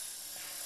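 An EXI 450 collective pitch RC helicopter at full throttle gives a steady, high-pitched whine with constant rotor speed, a brief, fairly faint sustained buzz.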